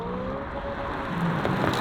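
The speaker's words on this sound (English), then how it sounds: "It gives you a bark out of the exhaust." An electric car plays a simulated exhaust note, a continuous rumbling burble with a rising bark near the end, heard up close and steady without any voices.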